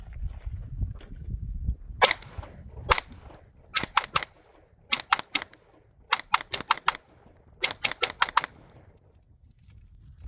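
A Shadow Systems DR920P pistol fires in quick strings of shots: a few single reports, then rapid bursts of three to five sharp cracks with brief pauses between them, loud and without voices.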